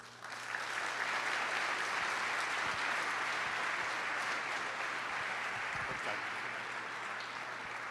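Sustained audience applause welcoming plenary speaker Matthias Doepke at an economics conference: a dense, even wash of clapping from a large room, steady from start to finish with no speech.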